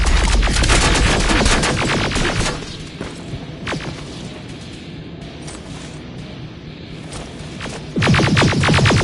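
Film-scene gunfire: rapid bursts of automatic shots crackle loudly at the start and again at the end, with a quieter stretch of scattered single shots and rumbling in between.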